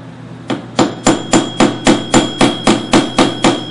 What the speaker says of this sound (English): Hitting a little harder because it's a bigger piece of brass.